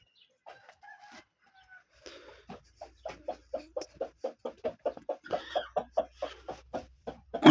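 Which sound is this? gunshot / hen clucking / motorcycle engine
hen clucking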